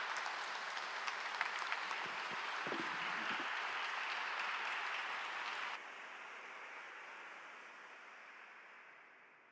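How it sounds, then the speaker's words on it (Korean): Warm applause fills a church service as the pastor is welcomed to the stage, dense sustained clapping from a crowd that holds for several seconds, then drops to a quieter fading tail. "목사님 나오실 때 뜨거운 박수로 환영하겠습니다."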